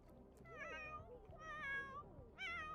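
A cartoon cat in a video game meows three times, clear and close, each cry rising and bending in pitch with short gaps between.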